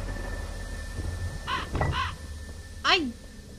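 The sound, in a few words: crow cawing in Bodie ghost town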